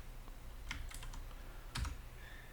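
Keyboard shortcut presses and mouse clicks while wiring a circuit schematic in circuit design software, a few sharp clicks and taps over a quiet background hum, with a louder cluster near the end.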